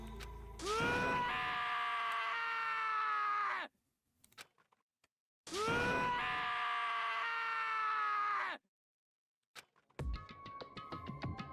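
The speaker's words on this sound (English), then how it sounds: "As Taka's sad screams invade our skulls" Taka from the video game Danganronpa screams in anguish, two long, loud, wavering cries of about three seconds each with silent gaps between them, followed by quieter clattering, sharp game sounds.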